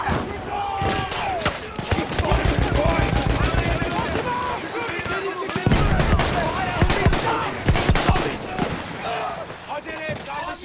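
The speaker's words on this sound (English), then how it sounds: "Let me use the Vickers gun." A Vickers machine gun fires in Battlefield 1 during the Gallipoli campaign, with loud bursts of rapid shots and clattering impacts amid chaotic game noise and a voice speaking over it.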